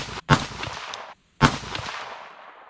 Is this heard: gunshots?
yes